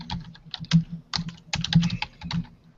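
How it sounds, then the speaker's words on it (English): Rapid, heavy typing hammers on a computer keyboard in uneven bursts, loud and close, the clatter of many keys struck hard with short pauses and no voices. "Hammering on keyboard."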